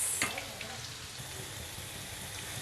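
Onions and cumin fry in a pan with a steady, close sizzle and a brief louder crackle near the start. The sizzle holds even, with no talk over it.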